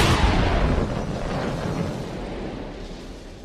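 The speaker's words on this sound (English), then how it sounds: "The sky lit up with the huge explosion." A huge explosion rumbles with a dense, roaring blast that starts loud and broad, then slowly decays into a sustained, fading rumble over several seconds.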